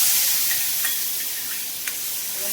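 Asafoetida and turmeric hit hot oil in a home kitchen, giving a loud, bright, continuous sizzle with a couple of faint clicks and no talking.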